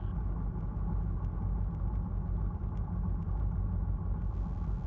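A Challenger II light sport aircraft engine with the throttle pulled back gives a steady, continuous low droning rumble that stays close and even throughout, with no talking.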